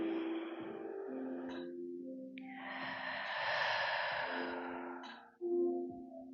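A slow, deep breath drawn in and let out during a relaxing spinal strength and flexibility workout, a long airy sigh-like exhale that sits close and soft, with a sharper breathy burst near the end.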